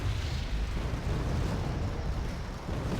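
Bombing run in the video game Wargame Red Dragon, heard as a continuous heavy rumble of explosions blending into one dense, roaring wash with no clear separate blasts.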